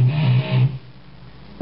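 Palm-muted open E string notes on an electric guitar in a rock style, a few short chugging low notes close up, then a quiet gap and one more muted hit at the end.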